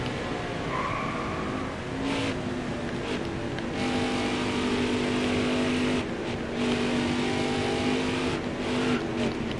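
Racing truck engines roar in the NASCAR Heat 4 video game, a loud continuous drone with shifting pitch as the trucks run on the track, with no talking.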